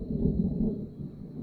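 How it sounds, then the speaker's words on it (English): Distant thunder from a storm passing to the west rolls as a low, muffled rumble through the whole short moment, with no talking over it. "don't know if you could hear the thunder in the background"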